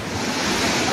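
Big storm waves crash and surge along the shore at Baras, Catanduanes, during a typhoon. The roar is loud, dense and continuous, and steady wind noise buffets the microphone.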